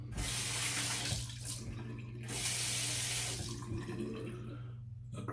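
Tap water runs steadily into a sink while a razor is rinsed between shaving passes, the flow swelling and easing in two long bursts with a brief pause between, close and fairly loud, no voices.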